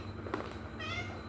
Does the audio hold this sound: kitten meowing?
yes